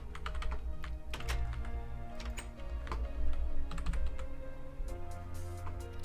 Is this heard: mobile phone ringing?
no